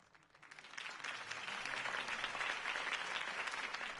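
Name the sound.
crowd applause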